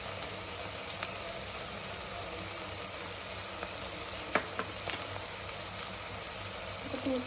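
Spices with turmeric frying in a pan, a faint continuous sizzle with a few soft clicks and scrapes, no voices.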